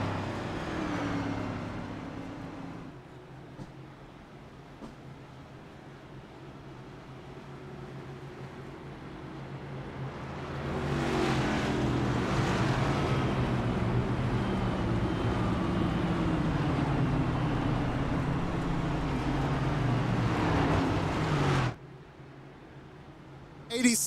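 NASCAR race cars from a racing game roar around Darlington as a blended engine drone that swells louder midway and holds, then cuts off abruptly, under a commentator's speech.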